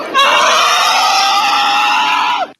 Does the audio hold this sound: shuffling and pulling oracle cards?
no